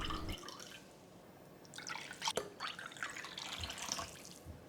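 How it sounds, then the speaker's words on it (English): Coconut milk drips and trickles as grated coconut is squeezed through a cloth, a close, wet patter of irregular drops and short streams with no voices. "Put them into a piece of cloth and squeeze out the liquid, and here is the coconut milk."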